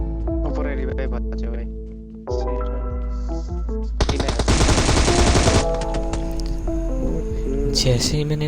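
Gunfire and explosions in the battle royale video game PUBG play over continuous background game sounds. Repeated shots are followed by a dense, loud burst of rapid fire and a blast, with further sharp hits afterward.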